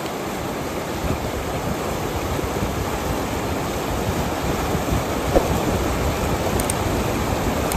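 A river in the Darjeeling hills, its strong current making a steady, broadband rushing roar that stays continuous and fairly loud throughout, with no voices.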